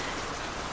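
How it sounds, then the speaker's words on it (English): Rain falls steadily at night, a dense, even hiss of drops with no breaks, soft and constant throughout, with no voices. "The rain is nice tonight. I like it when it rains like this."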